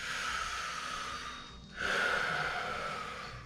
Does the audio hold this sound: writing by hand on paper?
no